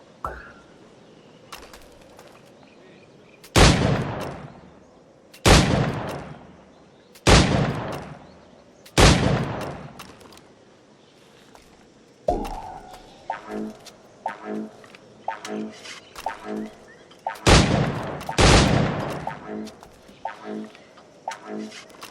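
Shots fired at targets in Assassin's Creed Black Flag ring out as loud, sharp blasts spaced a few seconds apart, with quieter impact clatter and game sounds between them.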